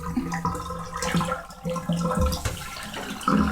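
Manure-laden water from washing sheep gushes and gurgles down a drain, a continuous close splashing flow with uneven surges and a few louder bursts.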